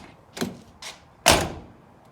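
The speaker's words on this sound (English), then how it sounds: "just got this door handle replaced, finally. Opens right up" A truck's driver-side door opening with a newly replaced handle: two light clicks of the handle and latch, then a louder clunk as the door releases, heard up close with no talking.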